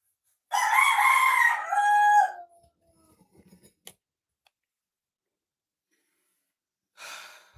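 A single loud, close rooster crow rises then falls over about two seconds, followed by faint rustling and a brief later sound.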